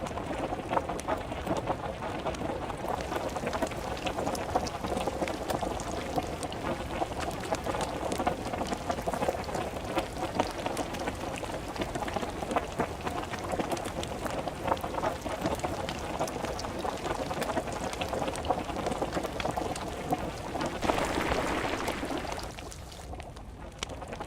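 Continuous water in the game DayZ, a dense, even hiss like rain or running water that holds steady for many seconds before briefly swelling and then thinning out near the end.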